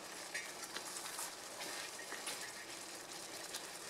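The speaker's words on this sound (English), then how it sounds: "Now we're gonna put the patties back in here and let it continue cooking" Salisbury steak patties simmering in mushroom gravy in a pan give a steady, close, soft sizzle and bubbling hiss, with a few brief louder pops throughout and no voices.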